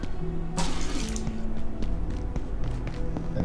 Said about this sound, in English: fill it with water